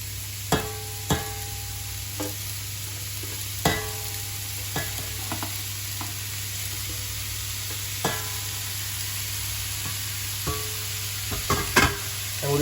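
Cabbage stirred in a pan with mushrooms, garlic and rosemary, gives scattered sharp scrapes and clacks of a utensil over a steady low background hum.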